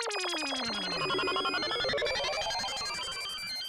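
A mobile phone ringtone plays loudly as a busy electronic melody with sweeping tones and rapid repeating notes, filling the whole short stretch without talk.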